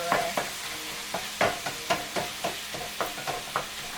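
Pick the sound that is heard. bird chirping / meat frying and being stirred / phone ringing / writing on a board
meat frying and being stirred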